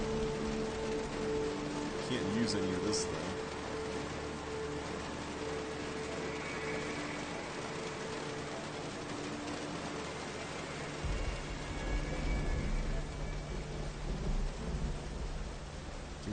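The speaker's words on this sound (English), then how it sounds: "Kind of weird considering it's just raining all the time." Steady game rain and rolling thunder from Myst V: End of Ages wash through as a constant broadband hiss, with a deeper rumble swelling later, while someone talks briefly over it.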